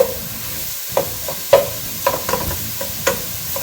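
Spoon scraping and stirring sausage with flour in a pan for a roux, irregular soft knocks and scrapes about every half second over a low sizzling fry.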